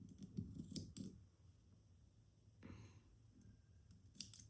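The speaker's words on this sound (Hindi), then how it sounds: "कटर लिया, कटर की जगह आप कैंची भी ले सकते हैं ताकि इजीली आपका कट जाए" A cutter snips through yarn on a crocheted shawl, with a few quiet, crisp clicks and snips scattered across a hushed, close background.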